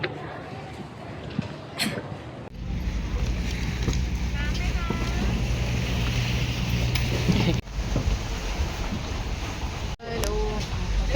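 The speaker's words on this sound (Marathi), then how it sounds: "हे बोट मध्ये बसलोय आम्ही इथे." A large ship-like boat cruises across the sea toward an island off Pattaya, Thailand, its steady engine rumble and wind rush filling the scene while voices chatter over it.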